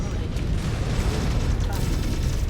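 Heavy booming artillery impacts rumble continuously in MechWarrior 5: Clans combat, a loud, low, churning blast texture with mech noise and a voice talking underneath.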